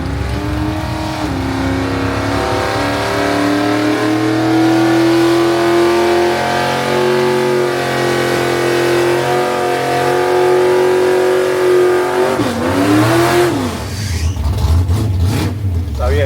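Drag racing cars making runs at Santa Pod during a street weekend event, a loud sustained engine roar with rising revs that climbs in pitch, then a sharp rev change near the end as another burst of engine noise follows.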